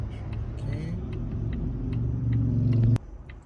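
A neighbouring car's engine idles and rumbles steadily nearby, its low drone swelling slightly before cutting off abruptly near the end.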